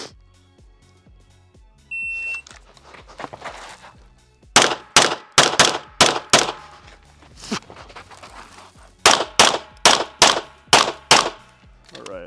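Pistol gunshots on a USPSA practice stage at an outdoor range, sharp loud cracks fired in quick strings of pairs and bursts after a starting beep, with a short pause between groups.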